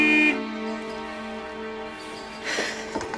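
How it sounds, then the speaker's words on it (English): A sustained, harmonic car horn blares loud at first, then holds steadily at a lower level before a rougher burst near the end. "George, she said you can honk the horn all you like, but it's giving her a migraine."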